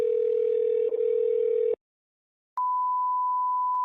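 A telephone line gives a steady low dial tone for nearly two seconds, falls silent, then a higher single ringing tone sounds steadily while calling a shop, with no one speaking.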